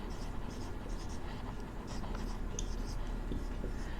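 Chalk or marker scratching out numbers on a board during a Vedic maths lecture, a continuous light scraping with short stroke bursts over steady room noise.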